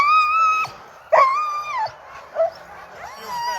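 Alaskan husky sled dogs at the start of a race near the Knik Bar whine, yip and howl in high, wavering cries, several eager voices rising and breaking off close by, with faint background chatter.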